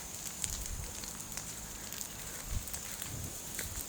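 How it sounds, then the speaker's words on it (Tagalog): An open field of harvested stubble burns in a large blaze, giving a steady crackling roar with sharp pops and snaps throughout, heard close and moderately loud with no talking. "Grabing apoy"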